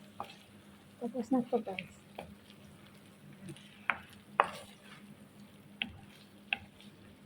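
Putat lahan frying in hot oil, with soft sizzling and a few sharp pops and crackles scattered through, while a person speaks briefly over the cooking.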